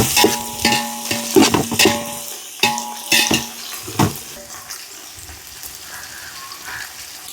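Onions fry in a pan for fish biryani, spoon or spatula clattering against the pan in uneven bursts over a steady sizzle, then easing into a quieter, continuous frying hiss.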